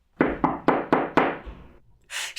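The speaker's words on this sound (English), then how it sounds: "she knocked on the door" Five firm knocks strike a wooden door in an even, quick rhythm, each resonant and close, followed by a brief pause and a soft rustle.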